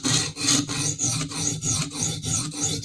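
Knife blade rubbed along a sharpening stone to even out the bevel, a rhythmic series of about eight rasping strokes with brief gaps between them, close and clear with no voices.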